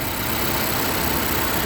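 A 2016 Nissan Juke SL engine idles with a steady, even hum and faint broadband hiss, fairly quiet and unchanging over a brief stretch.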